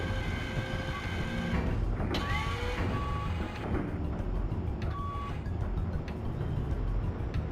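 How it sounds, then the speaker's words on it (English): Busy street traffic in a video game on original Dreamcast-era hardware, with engines rumbling, a few short tonal beeps like a reversing vehicle and mechanical creaks, steady and close without talk. "Yeah, a lot of traffic right here."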